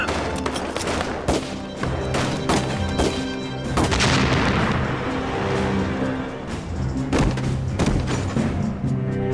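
Repeated loud explosions and gunfire erupt as a cave is blown up during a battle against Japanese troops, sharp booms landing in a dense, rapid series with rumbling tails, some bursts close and heavy.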